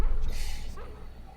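Dog barking in the horror adventure game Harvester, a dog character with foaming saliva; a short loud growly bark burst, close and harsh, fading into background game noise.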